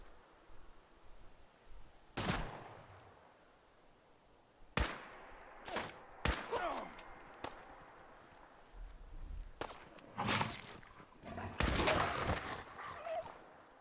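Gunfire in Fallout 4: several sharp, loud shots spaced irregularly, some in quick pairs with ringing tails, over a low hum of game ambience.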